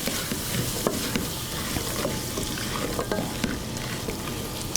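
Diced sweet potatoes and tomatoes fry steadily in a pan, giving a continuous sizzle with occasional sharp crackles and scraping stirs. No voices are heard.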